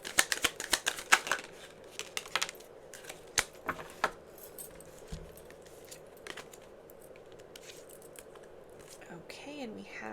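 Message cards being shuffled for a card reading, a quick run of crisp riffling snaps at the start followed by scattered card slaps and handling sounds, close and fairly quiet, with a voice speaking softly between them.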